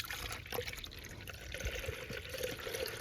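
Engine coolant pours into a 2009-2015 Toyota Venza from a Peak anti-spill bottle, a continuous gurgling trickle with small glugs over a steady wash of liquid noise.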